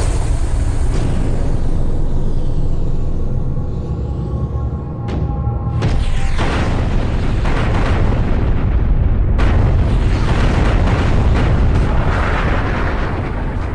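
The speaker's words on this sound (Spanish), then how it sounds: "Estados Unidos inició bombardeos a gran escala en Vietnam del Norte" Heavy bombs dropped on North Vietnam during large-scale US air raids, including strikes on Hanoi, explode as loud, continuous booming blasts and rumbling detonations, close and overlapping with no pause.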